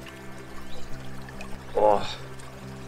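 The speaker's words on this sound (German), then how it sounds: "Ich sitze jetzt hier am Bach, man hört es wahrscheinlich vom Rauschen her" A rushing forest brook flows as a steady, soft wash of water, with a brief splashing swell near the middle and a man's short exclamation over it.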